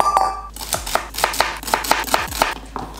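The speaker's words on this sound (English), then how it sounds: "I'm gonna be cutting celery" A knife chopping celery on a cutting board, about nine crisp, evenly spaced close chops following a brief quiet start, with no talking.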